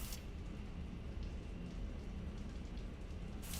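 Shower water from Mass Effect 3 pours in a continuous, even spatter and rush, close and constant throughout with brief brighter bursts at the start and end, and no voices.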